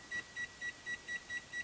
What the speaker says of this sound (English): I'm going to set a timer for 30 minutes